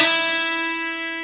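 An electric guitar rings out after a very fast grace-note slide on the B string against the open high E, a single bright sustained tone fading slowly, close and alone.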